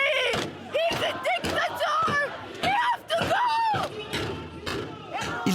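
Protesters outside the barricaded Iranian embassy in Bern, Switzerland, shouting chants together in loud, rhythmic bursts of voices, close and continuous, with thuds in between.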